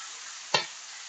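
Ground chicken breast frying in a pan gives a steady sizzle, with one short scrape of a utensil pushing the meat around midway.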